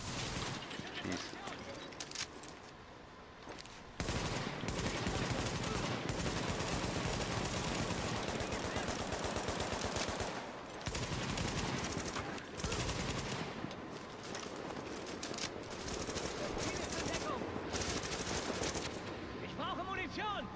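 Sustained turret and automatic gunfire in the video game The Division, dense rapid bursts that run almost continuously for twenty seconds with brief gaps, while a player talks over the shooting.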